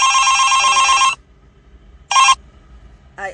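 A telephone bell rings loud and close in a long first burst, then a shorter ring after a pause, with a third brief ring starting at the end; no one talks.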